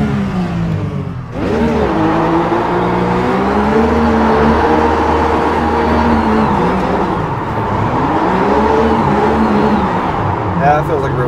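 A RUF race car in iRacing, driven around Daytona, roars loudly and steadily, revving up after a brief dip and holding a high engine whine with rising and falling pitch; no talk.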